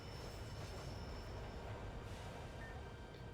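A train in the Pokemon Rejuvenation video game rumbles along in a steady, dense roar, with a faint high squeal over it and no voices.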